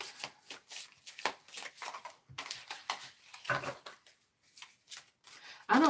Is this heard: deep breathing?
no